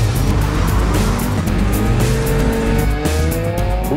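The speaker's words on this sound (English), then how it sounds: "I'm just going to drive around as fast as I can" Front-drive Citroen racing off-road against other cars, engines roaring loud and close with constant revving and brief tire squeals on rough ground, no voices.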